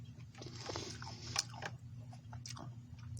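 Crunching of seeds in rehydrated dried berry fruit from a 24-hour ration pack, close chewing bites with scattered crisp crackles over steady low background hum.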